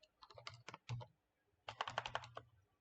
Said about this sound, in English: I'm typing poke.